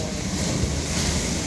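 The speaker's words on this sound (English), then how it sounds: "First time on the ocean." Ocean waves and wind around a boat at sea off Florida, a constant dense roar of rushing water and buffeting air, loud and close, with no voices.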